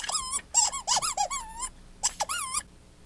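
A human voice imitates the squeak of a sonar technician's footsteps down a ship's passageway: a quick series of high, rising-and-falling squeaks in two close bursts with a short pause between.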